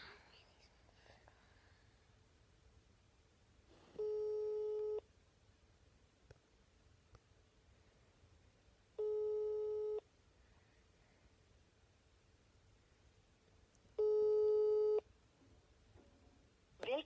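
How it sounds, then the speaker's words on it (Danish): Unanswered telephone call in Denmark, a ringing tone heard down the line: three evenly spaced one-second purrs about five seconds apart, clear over faint background hiss, with no one answering. "så jeg prøver at ringe til Felix."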